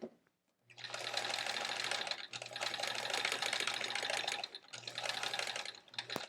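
Sewing machine stitching a paper-pieced quilt block, three close bursts of fast, even mechanical whirring, each a couple of seconds long with brief pauses between them.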